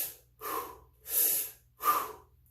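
Slow, deep breaths during a Kegel exercise, four distinct airy inhales and exhales close to the listener with quiet pauses between them.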